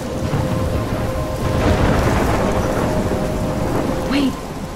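A thunderstorm in the video game Life Is Strange: dense, loud rain hisses throughout while deep thunder rumbles swell and roll, with a brief sharper crack near the end and no voices.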